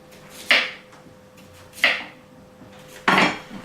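A knife cuts through a halved cucumber onto a board, giving three separate crisp chopping strikes about a second and a half apart over a faint steady hum, with no talking.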